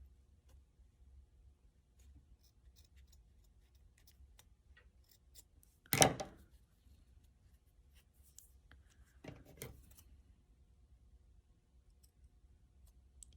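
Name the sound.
scissors snipping a piece off a pinecone gnome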